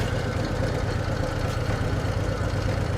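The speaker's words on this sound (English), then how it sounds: "It's pretty much idling right now." A motorcycle engine idles steadily during riding practice, giving a low, even, continuous rumble close to the microphone with no talking.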